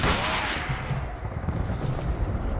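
Gunfire in Call of Cthulhu: Dark Corners of the Earth, a loud rifle shot at the start followed by several rapid shots and booming impacts against rumbling ambience.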